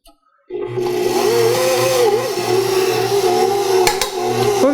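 A KitchenAid Professional 600 or Bosch stand mixer kicks on and runs loud and steady, its motor straining with wavering pitch while butter is worked into the mix one tablespoon at a time, close and without talk.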